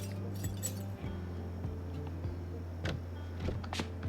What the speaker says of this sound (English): Let's remove that broken glass.